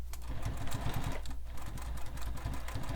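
A sewing machine stitches back over the bottom of a sling pack strap to reinforce it, running in a steady, continuous rapid mechanical chatter at close range with no pauses or talk.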